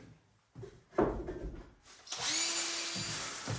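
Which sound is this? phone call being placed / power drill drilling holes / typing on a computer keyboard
power drill drilling holes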